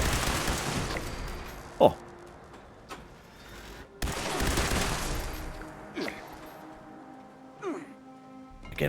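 Gunfire in Fallout 76 during close combat with robots: sharp shots at irregular intervals over a dense background of game noise, with a brief exclamation from a voice.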